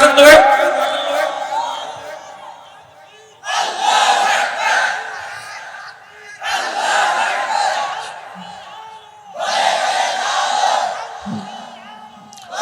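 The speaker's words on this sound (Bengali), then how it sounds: "এটা তাকবীর জোরে লাগান তো ভাই" Crowd at a Bangla Islamic sermon (waz) shouting the takbir, Allahu Akbar, in unison: three loud, sustained collective chants, each a few seconds long, with a lone preacher's voice calling out between them.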